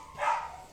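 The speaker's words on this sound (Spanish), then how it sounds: "les presento a los perros del patio de la casa al lado" A neighbour's dog barks from the yard next door, a single muffled bark rising and fading within a second, moderately distant and soft.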